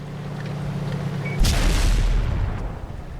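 A Type 59 tier 8 Chinese premium tank in World of Tanks fires its cannon once, a sudden loud boom at mid-clip with a rumbling low tail after a steady engine drone.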